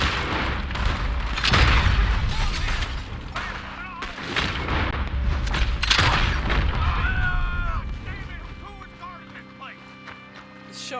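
Gunfire in a Red Dead Redemption 2 shootout with lawmen: heavy, booming shots and rapid volleys crackle throughout, loud and close, with voices shouting over the battle and the firing thinning out toward the end.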